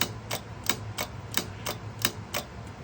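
Sharp mechanical clicks from a Howe coded fire alarm pull station transmitter repeat at a steady, even rhythm, about eight in under three seconds, fairly close and clear over a low hum, with no talking.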